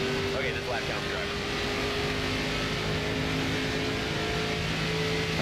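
A NASCAR race car engine drones steadily in a NASCAR 25 career-mode race at Phoenix, a sustained high engine whine holding a near-constant pitch with little variation, engine noise alone without talk.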